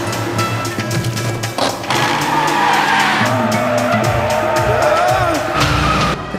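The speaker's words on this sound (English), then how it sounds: "The car flips through the air, landing on them and crushing them instantly." A car skids with loud, sustained tire squeal and engine roar as it crashes and flips through the air, a continuous close, harsh screech lasting several seconds with no talking.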